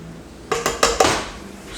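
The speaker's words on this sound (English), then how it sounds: "Spoon out the rest. That's inevitably stuck in the can." A spoon knocks and scrapes inside a metal can of corn, four quick clinking strikes in a row followed by a softer scrape, close and fairly loud with no talking.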